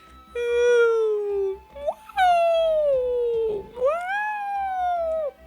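Someone imitates whale song, drawing out long, wavering, moaning tones that slide up and down across several connected calls, loud and close.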